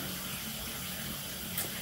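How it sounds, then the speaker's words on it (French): Shower water running steadily, a continuous broad hiss of spray at moderate level with no talk. "Donc je prends ma douche"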